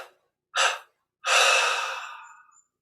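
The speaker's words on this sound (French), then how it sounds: "On expire en 3 fois." Breath released in separate bursts during guided Kriya Yoga meditation, a short airy push followed by a longer, fading exhale, close and clear against silence.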